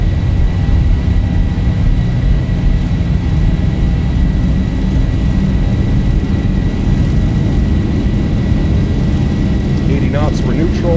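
Boeing 737-800 (Zibo Mod) jet engines roar at takeoff power in the X-Plane 12 simulator, a steady, loud, unbroken rumble that holds for the whole span.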